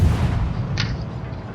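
Six-barrel ship guns fire in a naval video game, heard as a heavy rumbling boom with a sharp crack near the middle of the clip. There is no talk.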